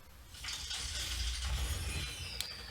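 An Overwatch loot box opens in the video game, a steady whirring mechanical rumble with bright shimmering tones and a single sharp click near the end.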